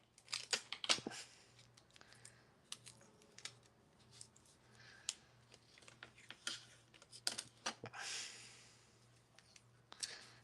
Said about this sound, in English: So I got to tape them up.